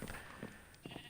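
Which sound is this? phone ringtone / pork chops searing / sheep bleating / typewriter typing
sheep bleating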